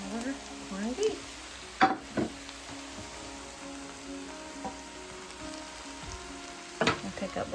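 Corned beef sizzles steadily in a hot stovetop pan, with a few sharp scraping knocks from stirring heard over the continuous frying hiss.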